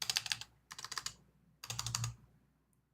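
Keys pressed one after another on a desktop computer keyboard with a busted, unresponsive key, in three dense bursts of clicky taps separated by short pauses, close and fairly loud, with no talking.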